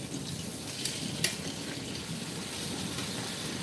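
Thick sliced bacon frying in a pan gives a steady, faint broadband sizzle throughout, broken by one brief sharper clink near the middle.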